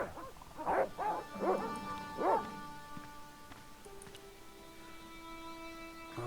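Dogs in the adventure game Les Chevaliers de Baphomet let out a few sharp barks and yips, then fade into a quiet, sustained tonal backdrop of game music.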